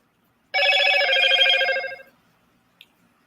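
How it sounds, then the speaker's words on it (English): A phone notification chime rings out as a short bright burst of bell-like tones lasting about a second and a half, then fades, followed by a tiny faint click. "Sorry about the notification thing there."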